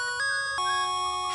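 Bell ringing in the CD-i Pinball video game, electronic chime tones changing pitch in two quick steps, clear and sustained with no voices.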